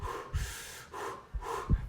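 Someone running breathes out hard through the mouth in two-beat puffs, each breathy exhale close and distinct, repeating three times in quick rhythm.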